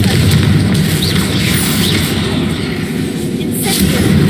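A dense, roaring blast from the Confringo fire spell in Hogwarts Legacy, loud and continuous with a heavy low rumble and crackling debris throughout, spoken voices faintly mixed in.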